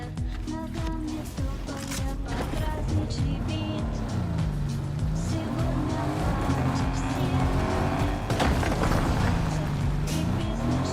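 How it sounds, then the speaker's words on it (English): A game car's engine drones and rises and falls in pitch as it revs and shifts, with tire noise and sharp clatters over it, loud and continuous throughout. "Sound of the car flying? That's terrible."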